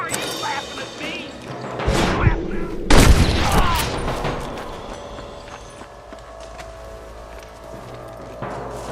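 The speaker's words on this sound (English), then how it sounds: "Good shooting, boy!" Gunfire from a Red Dead Redemption shootout, a burst of sharp loud shots around the middle, with hoof clatter and mixed game noise around it. No clear voices.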